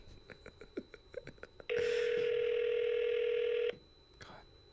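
A telephone call goes unanswered: a series of short rhythmic tones and clicks gives way to a loud, steady two-second ringback tone that cuts off abruptly, followed by a faint tone and quiet background.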